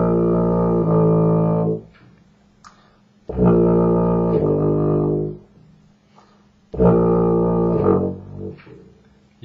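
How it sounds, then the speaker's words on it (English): Three sustained baritone horn notes, each played with a different valve and held for about two seconds with short pauses between, warm and brassy, close and alone. "You can hear that the baby valve makes the note a little bit lower"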